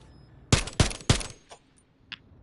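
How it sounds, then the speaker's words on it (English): Gunfire in a multiplayer video game: three loud, sharp bursts in quick succession, followed by a couple of fainter shots trailing off against a quiet background. "Look how many bullets he had to fire at me, though."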